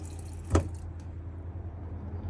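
Water gushes from the cold tap of a 2013 Concorde Carver motorhome as air is purged, a steady hiss with one sputtering burst early on, close by and without talk.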